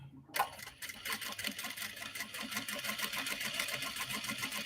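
A sewing machine stitches along the edge of a fabric clutch sewn from an obi and kimono, a steady rapid mechanical chatter of needle strokes running close and continuous.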